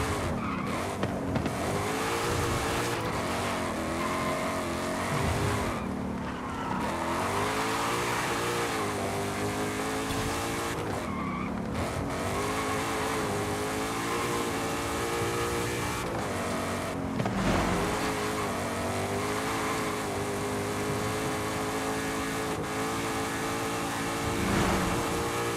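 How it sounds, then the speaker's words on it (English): Shelby GT350 in the Forza Horizon 5 racing game, its engine revving hard and rising and falling through gear changes, with repeated tire squeals and skids throughout, loud and continuous. "this Shelby GT350 engine revs to the moon"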